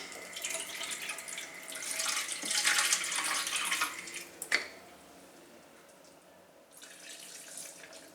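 Water runs from a tap into a blender jar of fruit pulp for blending, a steady splashing pour that swells, ends with a sharp clunk, then gives way to a faint trickle.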